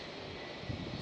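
Airliner jet engine spooling up at Amsterdam Schiphol airport, a steady loud broadband roar with a low rumble swelling slightly toward the end.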